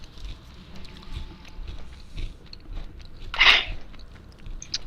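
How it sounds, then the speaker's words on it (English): Someone munches on food close to a microphone, with soft irregular chewing and one louder crunchy bite standing out over a quiet background. "What are you munching on, bro?"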